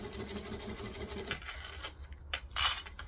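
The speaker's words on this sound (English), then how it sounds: "I am just slowly going to stitch 1/8 of an inch from the edge of the opening as best as I can." A sewing machine stitches leather, a steady fast mechanical chatter at first that gives way to scattered clicks and metallic taps, close and fairly quiet with no talk.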